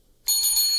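A small bell is rung once for new patrons of a backyard gardening podcast, a sudden bright ringing that starts sharply and keeps sounding until the end, alone and close.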